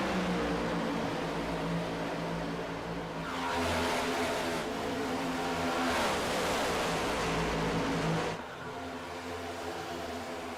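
Stock cars race in a pack around the 1.5-mile Atlanta Motor Speedway oval in a racing video game, with a steady loud engine roar that swells as the cars pass, then drops off.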